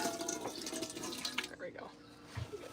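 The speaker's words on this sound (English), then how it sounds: "pour some of this water out into Salvador's." Water poured from a full blender jar into another container, a splashing, trickling stream for about a second and a half that tapers off, followed by quieter clinks and faint talk.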